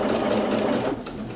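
A sewing machine runs steadily around a neckline, stitching bias binding with the needle-down setting, a close, continuous mechanical hum with a regular rapid tick of the needle that eases slightly near the end.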